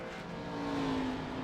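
Race car pulling away from pit road at Daytona, a steady engine drone with a rising and then falling whine as it accelerates, moderately loud and unbroken, without speech.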